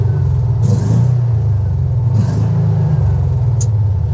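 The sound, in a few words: John Deere XUV 560E Gator engine revving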